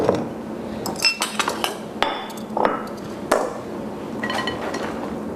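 Dishes and cutlery clink and clatter close by as a plate is taken from a stack in a home kitchen. Sharp, bright knocks come in irregular clusters, with a few short gaps between them.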